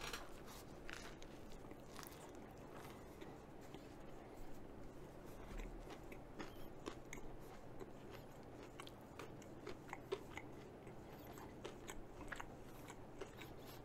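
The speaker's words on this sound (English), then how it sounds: "let's try the shrimp po' boy, since that's already been munched on a little bit" Someone bites into and chews a Popeyes shrimp po' boy at close range, with faint, quiet crunching and soft mouth sounds repeating steadily throughout.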